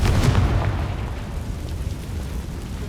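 A Confringo spell blast in the video game Hogwarts Legacy, a loud booming explosion that opens the clip and then decays into a long rumbling roar.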